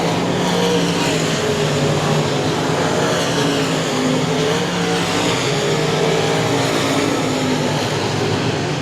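Limited modified race cars thunder around the I-37 Speedway dirt oval during the main event, a steady, loud wall of engine roar with wavering pitch as cars circle close by.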